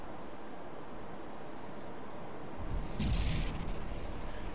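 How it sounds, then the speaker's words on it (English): Heat shells fired from a cruiser in the game Cruiser Clash, a burst of low booming blasts with a crackling upper layer starting partway through over a steady noisy bed. "it's firing those heat shells in like a shotgun spread"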